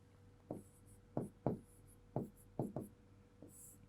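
Chalk taps and strokes on a board during a Class 12 surface chemistry lesson, seven short, sharp scratches at an irregular pace, close and clear over a quiet room hum.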